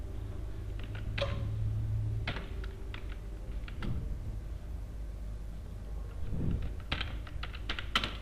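Fast typing on a computer keyboard while writing Java code, bursts of clicky keystrokes with short pauses, close and fairly quiet over a low steady hum.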